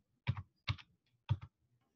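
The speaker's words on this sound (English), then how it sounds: "I hate typing in a password on camera" A password is typed on a computer keyboard: three short, quiet bursts of key clicks with pauses between, close by in an otherwise silent room.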